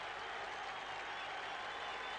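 A stadium crowd at Karaiskakis Stadium in Piraeus roaring and applauding at a football match, a dense, steady wash of distant cheering that holds constant throughout.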